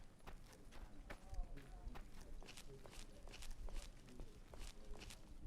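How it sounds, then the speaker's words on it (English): Footsteps treading on carpet in Fallout: New Vegas, a faint, steady run of soft muffled steps with scattered sharper taps, continuing for several seconds with no talking. "I can hear someone treading on the carpet."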